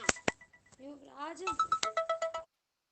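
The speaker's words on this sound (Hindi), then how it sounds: "किसका फोन बज रहा है भाई, बंद करो इसको" A mobile phone ringtone rings in a classroom, its melodic tones repeating in a quick rhythm for a couple of seconds before cutting off, with a voice speaking over the start.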